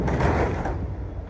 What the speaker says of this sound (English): I'm about to close my trailer doors.